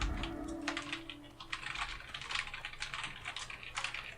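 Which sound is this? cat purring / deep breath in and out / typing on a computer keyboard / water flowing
typing on a computer keyboard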